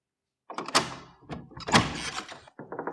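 A door is opened in a quiet indoor scene: after a brief silence comes a run of clunks and knocks from the handle and latch, then a sharp thunk and a softer rattle, all close.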